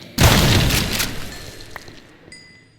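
A grenade launcher round explodes in a Minecraft game with a sudden loud boom, followed by a crackling rumble that fades over a couple of seconds, then faint game tones.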